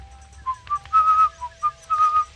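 A video game character whistles a short tune in a village, a close, clear melody of separate rising and falling notes over a low background hum.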